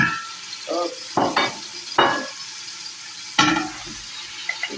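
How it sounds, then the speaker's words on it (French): Sausages frying in hot oil give a steady sizzle, broken by a few sharp bursts of louder crackling as they are stirred, with occasional clinks of a utensil against the pan. "on va faire revenir nos saucisses dans de l'huile"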